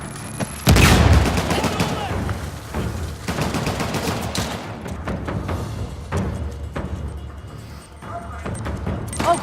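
Blasts of gunfire in Uncharted: The Lost Legacy, including shotgun fire: a loud close burst early on, then repeated shots and impacts through a hectic firefight, with a voice exclaiming between them.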